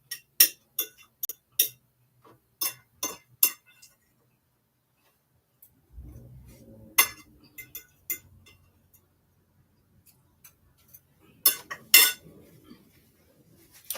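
Utensils scooping food from a dish of wrap filling, sharp metallic clinks and scrapes in scattered bursts, close and crisp, with a brief soft rustle in the middle and quiet gaps between.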